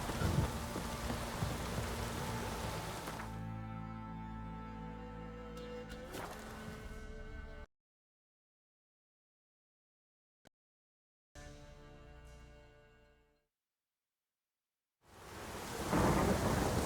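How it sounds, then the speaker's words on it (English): Heavy rain and rolling thunder fill a storm in The Witcher 3, a loud continuous wash with a crack of thunder, then the roar cuts out to silence, returns briefly, fades, and surges back. "A storm, damn it."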